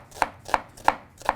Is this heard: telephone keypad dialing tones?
no